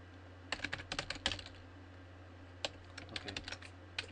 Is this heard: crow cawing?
no